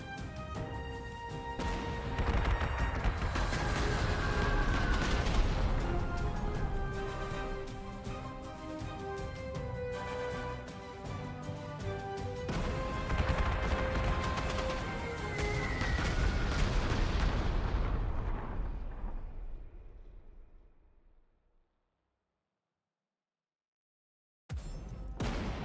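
Heavy rolling booms and crashing blasts from bombing runs and artillery fire in the World War II strategy game Panzer Corps 2, set in a London campaign, pounding loudly and continuously for about twenty seconds before cutting to silence and then a short burst.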